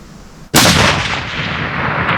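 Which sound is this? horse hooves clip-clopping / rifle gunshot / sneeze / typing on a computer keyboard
rifle gunshot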